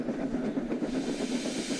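A passenger train with carriages full of children rolls past a crossing, a soft, steady rumble with rhythmic clicking and faint hiss, distant and fairly quiet.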